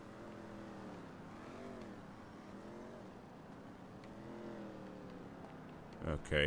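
Car engine in the video game RUINER revving and droning steadily with rising and falling pitch, fairly faint and continuous, with a short louder burst at the end.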